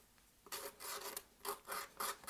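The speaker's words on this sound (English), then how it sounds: "then I take the X-Acto knife on its side and just scrape" An X-Acto knife held on its side scrapes leftover paper from cardboard in repeated close, rasping strokes, each burst about a quarter second long, with short pauses between them.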